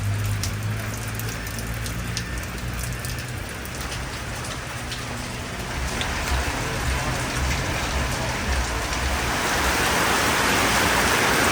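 Steady rain falling heavily in Belize, a dense hiss of drops on surfaces that grows a little louder toward the end, with no clear voices.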